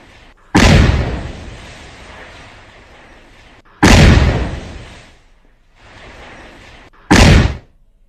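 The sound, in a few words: house blown up by explosion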